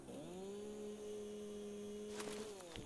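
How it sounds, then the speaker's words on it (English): A chainsaw in the Satisfactory video game gives off a steady, even buzzing drone for about two and a half seconds, then cuts off with a few light clicks at the end. "It's good job I had a chainsaw."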